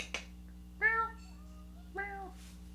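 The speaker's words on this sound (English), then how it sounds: "We've been joined by Kobe, the cat." A house cat named Kobe gives two short, clear meows about a second apart, close and moderately loud, with a brief click before them and a low background hum.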